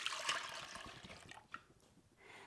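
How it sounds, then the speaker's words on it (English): Mushroom dye liquid made from Dyer's mazegill fungus pours into a clean pan, a close, steady watery rush that thins to trickles and drips. "So what I'll do now is I will get a clean pan. I will pour that in"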